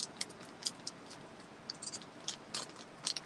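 Faint crinkly scrapes and sharp little crackles as an old bag is forced open, irregular bursts close by in a quiet room.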